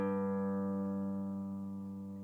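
A single plucked guitar note on the fifth string, tuned down from A to G, rings out clearly and alone, fading slowly over a couple of seconds.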